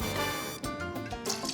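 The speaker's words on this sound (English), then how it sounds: "let's go with our Herrador tequila. Pour that all over the hot stuff." Herradura tequila being poured over muddled cocktail ingredients, heard as a close, steady liquid glug and trickle with small drips and splashes.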